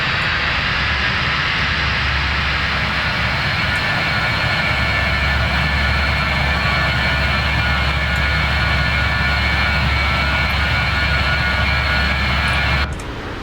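A video game aircraft engine gives a steady, loud, continuous roar that barely changes throughout, then cuts off abruptly near the end.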